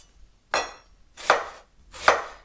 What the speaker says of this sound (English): chop your onions finely